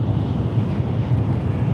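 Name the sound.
gust of wind from a passing Shinkansen bullet train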